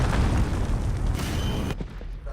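An enemy cruise missile explodes in a video game: a loud, deep boom with rumbling debris that lasts nearly two seconds before tapering into quieter crackles.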